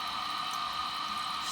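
A toilet tank refills with water after a flush, giving a continuous steady hiss and rush of running water at close range, with no talk over it.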